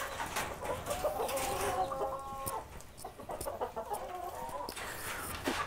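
Broiler chickens in a cold farm coop, clucking and squawking steadily close by, with overlapping bird calls and a few short sharp cries throughout.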